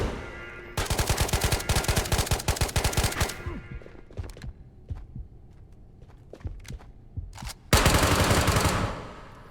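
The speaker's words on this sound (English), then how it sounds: "I let some shots rip and only managed to take out one of them." Rapid automatic gunfire in the video game Ghosts of Tabor, set in Chodov Mall: a long, loud burst of shots, then scattered single shots and thuds, and a final dense burst.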